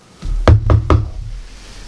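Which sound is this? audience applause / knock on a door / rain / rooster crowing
knock on a door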